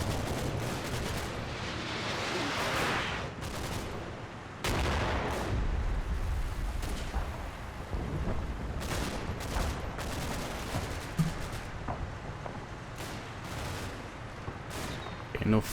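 Artillery fire in the wargame Combat Mission: Battle for Normandy comes as repeated heavy booms and rumbling blasts over a dense, continuous battle din. The impacts land at irregular intervals across the stretch.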